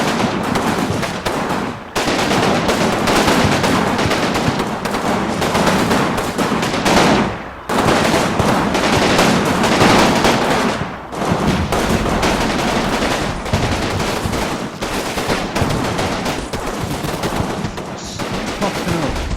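Sustained, dense gunfire from a World War II Normandy combat game, heavy machine-gun and rifle fire rolling almost continuously with only brief gaps, loud and close.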